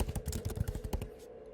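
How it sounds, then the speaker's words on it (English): Rapid clicking keystrokes on a computer keyboard while a name is entered into a text box, a quick irregular burst of close, crisp taps that trails off into quiet near the end. "name the matter by typing it in the text box"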